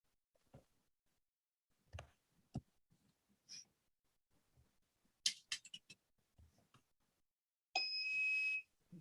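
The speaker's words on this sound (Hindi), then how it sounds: "इसके दोनों प्रोब हैं रेड और ब्लैक, इसको आपस में सटाइएगा तो मल्टीमीटर बीप देगा।" A digital multimeter gives one steady, fairly loud electronic tone lasting about a second when its red and black probes are pressed together, after a stretch of quiet clicks and handling noises.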